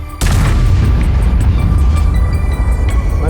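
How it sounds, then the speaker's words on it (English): A big tank gun fires in World of Tanks, giving one sudden, very loud boom that rolls on into a long, heavy rumble. "Now the big guns will go boom."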